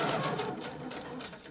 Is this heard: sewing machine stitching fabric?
yes